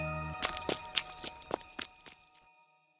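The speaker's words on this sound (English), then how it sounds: "She heard footsteps behind her" Footsteps in a horror scene, about seven distinct steps at a steady walking pace, moving off and fading, with a low rumble under the first few.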